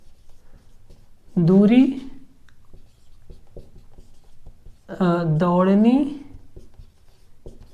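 Soft, scratchy strokes of writing on a board during a class-10 maths lesson, steady and close, broken up by two short bursts of someone talking.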